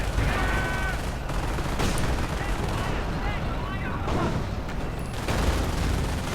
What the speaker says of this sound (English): 17 takes a shot at the AT gun.